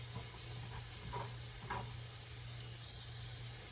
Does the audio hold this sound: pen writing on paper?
no